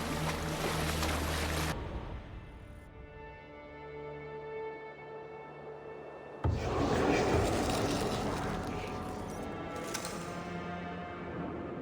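A ship sails over ocean waves in Assassin's Creed Valhalla, with a steady wash of water and wind that drops briefly, then surges back louder as the hull pushes through the sea.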